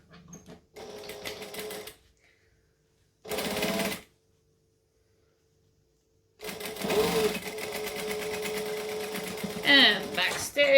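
A sewing machine runs in short bursts of stitching with a pause between them, then a longer steady run, close and mechanical, with a voice speaking over parts of it.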